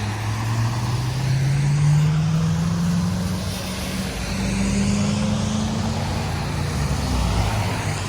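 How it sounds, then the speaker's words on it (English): Night traffic on a Philadelphia city street near 22nd Street and Benjamin Franklin Parkway, a steady loud roar of cars and a truck with an engine rising in pitch as it passes close by, no voices. "Take a look at the traffic."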